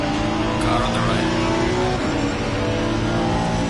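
Engine roar of GT race cars running side by side in the racing game Assetto Corsa Competizione, a steady loud drone with a shifting pitch as a rival pulls alongside.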